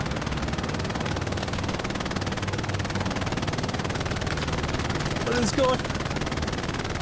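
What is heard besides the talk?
machine gun on half-track firing in video game Hell Let Loose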